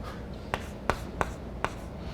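Chalk or marker strokes on a classroom board, four short sharp taps and scratches spaced unevenly, close and distinct over a quiet room.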